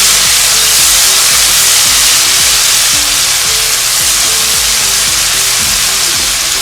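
Alexandrian liver spice mixture sizzling hard in very hot oil in a wok, a loud, dense, steady hiss with faint clatter from the pan below it and no talking.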